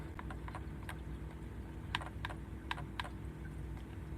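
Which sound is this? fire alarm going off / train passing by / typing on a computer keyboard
typing on a computer keyboard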